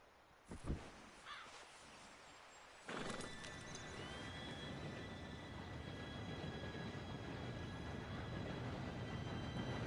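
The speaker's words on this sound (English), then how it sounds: "Train should be here any minute now." A train approaching in the video game Red Dead Redemption 2: after a few sharp knocks and a horse's whinny, a steady rumbling rolling noise sets in and builds gradually, with faint tonal squeals on top.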